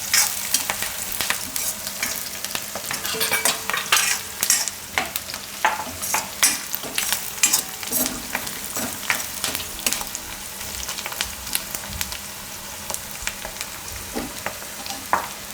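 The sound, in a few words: curry leaves frying and being stirred in a pan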